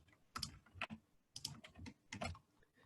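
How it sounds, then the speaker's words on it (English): A short keyboard shortcut is typed on a computer keyboard in Revit, a few quiet clustered key clicks in bursts separated by brief pauses, close and soft with no talk. "on your keyboard, type in WT for window tile"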